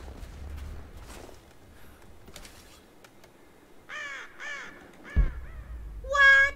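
A bird caws in Rise of the Tomb Raider during the Baba Yaga DLC, a few harsh calls rising over quiet game ambience and footsteps, the loudest burst at the end.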